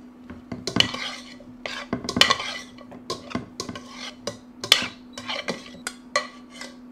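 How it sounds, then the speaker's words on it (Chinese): A utensil stirs cooked vegetables with fried scallions in a pan, giving repeated irregular metallic scrapes and clanks against the cookware, close and steady over a low hum, with no talk. "搅拌一下，看看效果。"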